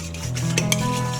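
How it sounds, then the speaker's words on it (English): A spoon stirs a yeast mixture in a bowl while making bread by hand, giving close, steady scraping and light clinks against the bowl's side for just over a second, with no talking. "so if it touches to the side of the bowl, make sure you stir it up"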